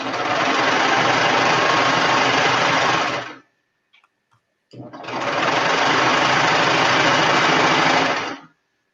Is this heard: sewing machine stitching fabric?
yes